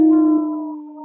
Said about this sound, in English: Yeah, we need a male howl in that mix there.